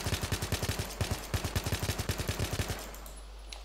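Assault rifle gunfire in Battlefield 3, rapid bursts of about twenty close, loud shots in quick rhythm, stopping abruptly, then a quieter tail.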